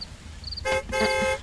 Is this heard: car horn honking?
yes